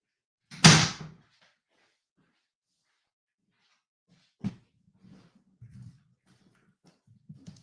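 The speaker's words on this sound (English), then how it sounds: "Come in. The door is open." A door opens with a loud whooshing thud as a visitor comes in, followed by a sharper knock-like bump and faint shuffling and low murmurs in a quiet room.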